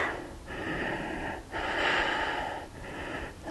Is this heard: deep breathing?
yes